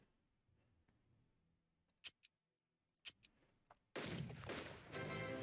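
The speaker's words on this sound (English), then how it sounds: "I'm going to start bombing it down here" Bombing in the strategy game Unity of Command 2: a few sharp, separated impact bursts give way to a loud, sustained explosive roar that fills the last seconds.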